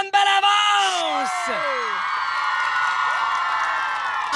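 A studio audience screams, whoops and cheers loudly and continuously at a French television comedy show, with high shrieking voices rising over a steady roar of crowd noise.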